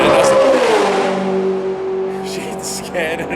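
An S5000 race car engine revs loud and close at Phillip Island, its pitch sliding down then holding steady, with a brief rising blip near the end.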